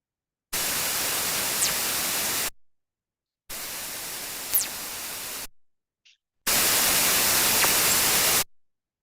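Sonified radio bursts picked up at an astronomical observatory: three two-second blocks of loud, flat hiss separated by silence, each with a faint sweeping chirp inside.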